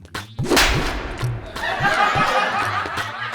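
One sharp, loud slap lands on a person's face during a comedic household quarrel, followed by laughter and chuckling over a busy background.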